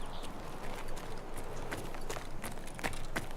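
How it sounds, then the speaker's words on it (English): Player character walking at increased speed in Escape From Tarkov, a run of quick, fairly close footstep thuds and scuffs in a steady rhythm, moderately loud against a low background, no talk. "as we increase the speed of walking, the footsteps also increase in noise"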